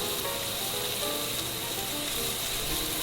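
Beef for stroganoff browns in a hot pan, a loud, steady sizzle and crackle of frying meat that carries on unbroken with no voices over it.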